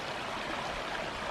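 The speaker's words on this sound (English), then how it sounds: "Small little cascades here, bumping down." Small water cascades in a forest stream in Bankhead National Forest, Alabama, splashing and bumping over rocks in a steady, close, broadband rush with no pauses.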